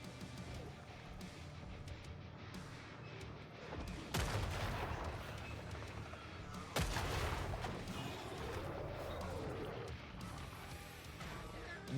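In the Killing Floor 3 beta, gunfire aimed at zombies rings out as two sharp, isolated shots several seconds apart over quiet game ambience.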